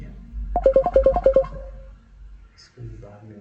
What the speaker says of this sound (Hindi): और मेरे घर से फ़ोन आ रहा है।